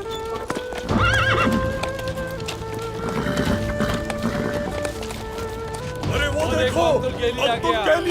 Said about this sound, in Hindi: सरदार का घोड़ा, हमारे सरदार का घोड़ा आ गया